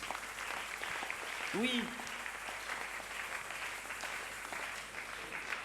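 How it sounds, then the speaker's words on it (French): In a church, an audience applauds with a steady wash of clapping that runs the whole time, moderately loud, as a few voices call out over it. "Et si nous pouvons acclamer pour la parole de Dieu."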